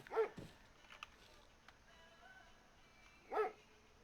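A dog in the video game ArmA 3 barks and attacks. Two short, muffled barks, one at the start and one near the end, sit over quiet game ambience and are faint and distant.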